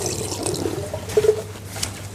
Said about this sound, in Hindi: बस अगर किसी ने वॉश बेसन के नीचे इस तरह से हाथ रखा